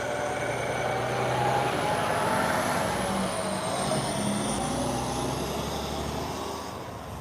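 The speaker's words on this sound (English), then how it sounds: "there was a dump truck that just moved by" A dump truck loaded with dirt and rebar drives past the SpaceX Starbase gate in Boca Chica, Texas: a steady engine rumble with a high whine that swells and then eases as it moves off.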